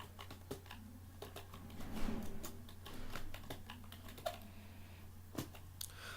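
Keywords being typed on a computer keyboard, a quiet, uneven patter of close key clicks with brief pauses between bursts, over a low steady hum and no voices.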